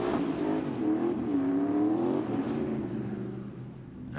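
A drift car with car trouble revs through the course during qualification at the EEDC 2021 event in Raubichi, its engine droning loud and steady with rising and falling pitch, then easing slightly toward the end.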